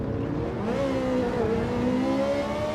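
Ferrari race car engine in Gran Turismo 7, a loud continuous revving roar with rising and falling pitch as it accelerates, close and sustained.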